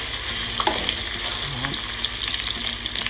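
Shrimp frying in oil in a wok for Thai noodles, a bright continuous hiss and crackle with a few scraping stirs and soft clinks, close up and without voices.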